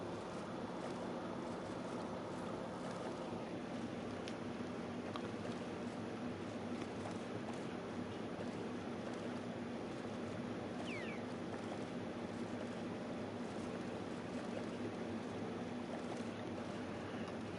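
A boat glides across water in Minecraft, giving a steady, even wash of water and wind-like noise that holds at a constant level without pause.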